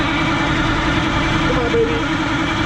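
A Detroit 8V71 two-stroke diesel idling in a 1977 MCI coach, a steady loud low rumble with a faint voice briefly underneath.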